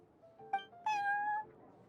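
Prince, a cat in the video game Genshin Impact, gives a short meow followed by a longer, drawn-out meow, close and clear over a quiet background.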